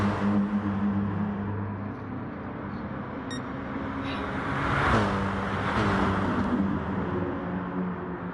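Several GT3 race cars lapping Kyoto Driving Park in a racing video game, engines droning steadily through a fast right-hander with a brief swell as one passes close, all under continuous commentary.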